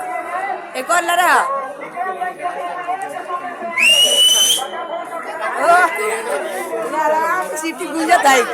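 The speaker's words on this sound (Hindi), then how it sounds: "सीटी गुंजत है।" A referee's whistle at a football match in Patna sounds one sharp, loud rising blast above a steady babble of crowd chatter and nearby voices talking.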